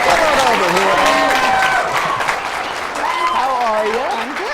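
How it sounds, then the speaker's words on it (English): A studio audience at a game show claps steadily in sustained, loud applause as a contestant is welcomed, with a host's voice talking over it throughout. "How about a big round of applause and a big welcome, everybody, for Samantha Harr"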